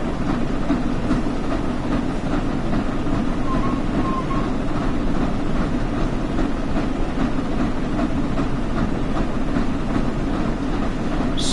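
The Flying Scotsman steam locomotive in Train Sim World 4 gives a loud, steady rolling rumble with rhythmic clatter as it runs at speed, with no talk over it.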